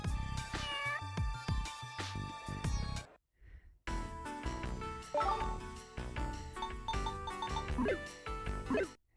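A cat meows repeatedly in the video game Phantasy Star Zero, giving loud, close, tonal cries over game background sounds, with a brief near-silent gap partway through.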